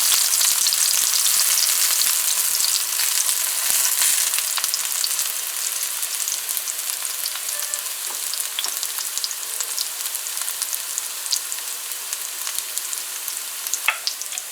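Onion, scallion, celery and pepper fry in a hot pan with a loud, dense sizzle that eases slightly over time, punctuated by a few light stirring clicks, close up with no voices.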